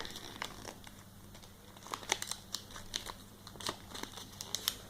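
Paper is folded and creased into an origami frog, producing close, crisp crinkling and sharp crackling creases in irregular bursts over a faint steady background hum.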